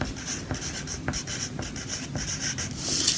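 Handwriting a word, likely with a marker on a board, heard as a series of close, quiet scratchy strokes in an irregular rhythm over a light background hiss.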